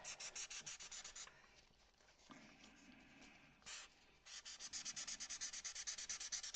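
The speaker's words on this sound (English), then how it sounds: "Let me sand this one too to get it ready." Sandpaper rubs a UV resin-coated foam Easter egg in quick, rhythmic scratchy strokes, a burst at the start and a longer steady run at the end, with a quieter stretch of faint handling between.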